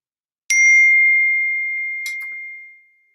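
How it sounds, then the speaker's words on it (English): A phone's text message notification ding rings out clearly, a bright chime that decays slowly, followed a moment later by a second quicker electronic ding. "Sorry, that was my text messages"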